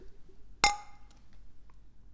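Two beer glasses of gose clinking together in a toast, a single sharp bright clink with a short ringing tail in a quiet room.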